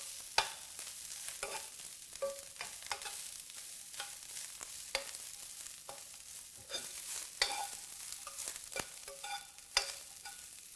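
Broccoli florets cook in a frying pan, giving a steady sizzle and crackle with scattered sharp ticks and scrapes of stirring, close and fairly quiet.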